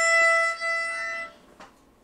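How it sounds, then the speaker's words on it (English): A violin's open E string is bowed in a lesson on the strings family, giving a bright, high sustained tone that rings clearly for over a second, then fades, followed by a faint brief breath-like sound. "Let me play my E string so I can hear that too."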